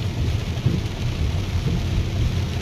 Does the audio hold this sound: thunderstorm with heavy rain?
yes